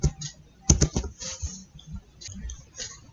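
Computer keyboard keys struck while entering a password at an SSH prompt on a VirtualBox remote server: a short, quiet cluster of a few clicks over a faint background hum.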